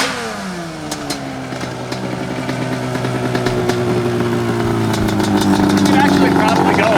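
A Yamaha Banshee four-wheeler revs up and holds a rising, buzzy two-stroke drone that grows louder as it rides nearby, with people talking over it.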